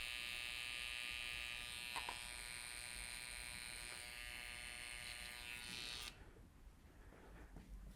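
An electric hair clipper buzzes steadily and close while cutting a low fade on straight hair, a constant high whine with faint contact ticks, before cutting off abruptly near the end and leaving a quieter hum.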